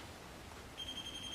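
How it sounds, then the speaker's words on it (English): A handheld E-probe static detector sounds its alarm after being touched during a paranormal investigation at Praters Mill: a thin, steady high-pitched tone starts partway through and holds, faint over background hiss. "it sets off an alarm"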